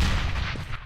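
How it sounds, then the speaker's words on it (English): A grenade goes off in the game CS:GO as a single heavy, booming blast that decays quickly, loud and close, with no talking. "I threw a grenade."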